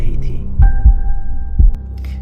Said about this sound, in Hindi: हम दोनों को अपनी दिल की धड़कने की आवाज साफ साफ सुनाई दे रही थी